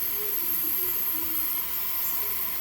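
Steady hiss of steam venting from a new T-fal pressure canner on a stovetop, loud and continuous, with a bright high sustained tone and no talking.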